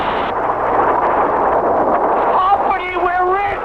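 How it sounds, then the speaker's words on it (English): A huge cartoon oil gusher blasts up out of an enormous crater in a loud, sustained roaring whoosh, with warbling tones rising near the end. "right out of the enormous crater shot a huge gusher"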